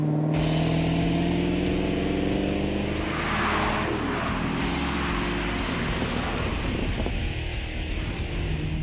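A 2017 Callaway SC750 Camaro ZL1 on a race track roars loudly and continuously, its engine note sweeping up and down through gear changes, close and dominant with no voices.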